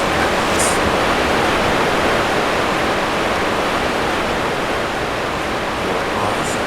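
Waterfall in the video game Broken Triad on Tempest Isle, a loud, steady, broadband rush of falling water that fills the whole clip without pause, with no talk.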